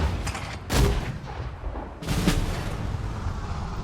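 Mortars fire in the World War II strategy game Sudden Strike 4. Two loud, heavy booms land about a second apart over low rumbling battle noise.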